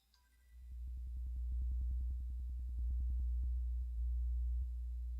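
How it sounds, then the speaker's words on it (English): A low electrical hum from the Unfiltered Audio LoFi plugin drones steadily, with a rapid pulsing buzz layered over it, like faulty wiring or a bad power cable. "we can adjust the filter of how much hum we want"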